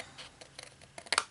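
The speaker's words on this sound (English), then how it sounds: "Then you'll take your scissors and you will cut out the squares on all 4 corners." Scissors snip out the corner squares of a sheet of paper in a quick series of short, close, light cuts, with the sharpest snips at the end.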